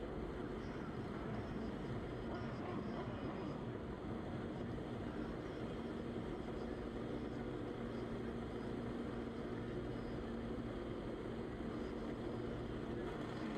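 Drag racing motorcycles idle and rev while pre-staging at a night of finals racing, a steady loud engine roar holding throughout with no voices over it.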